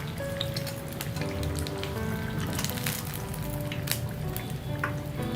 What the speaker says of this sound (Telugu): చూడండి, మన గారెలు చక్కగా ఫ్రై అయిపోయినాయి కాబట్టి ఇప్పుడు మనం ఆయిల్లో నుంచి తీసేసుకుందాము